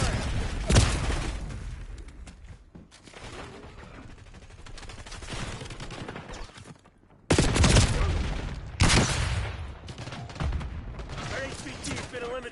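Rapid rattling gunfire bursts in the video game Call of Duty Black Ops 6, loud volleys with sharp cracks, a brief lull and then renewed heavy shooting, with game voice lines mixed in.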